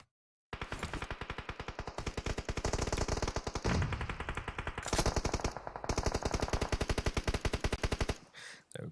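Rapid automatic gunfire from PUBG Mobile hammers in long, dense bursts with brief pauses and a single-shot gap midway, loud and close, with faint echoing tails.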